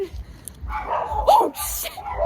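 Fat Jack Russell dogs give a few short, close barks and yips, with a person speaking over them.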